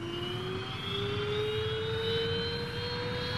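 A specially equipped NASA jet in flight gives a steady, loud engine roar with a whining tone that rises slowly in pitch, heard alone without any voices.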